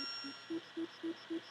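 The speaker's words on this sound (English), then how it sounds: "Oh, I'm burning a bell." A bell being burned in the Deadly Towers video game gives a series of four short, evenly spaced chiptune dings, faint and repeating in a steady rhythm after two softer lead-in tones.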